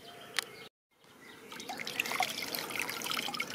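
A carp being slipped back into the water of a wild fishing pond, with a short splash, a brief silence, then continuous trickling and dripping water close by.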